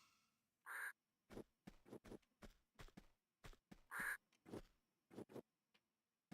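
Two loud, harsh bird caws ring out in Tomb Raider 2 Remastered, spaced a few seconds apart, amid a steady run of short thudding footstep-like knocks.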